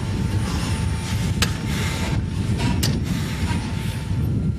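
A fighter plane's engine running steadily just after a flight over Moscow: a loud, continuous jet drone with a couple of brief sharp mechanical clicks, no voices.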